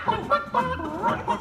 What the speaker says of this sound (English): Hey, Kermit, the all-chicken chorus is ready for their big number.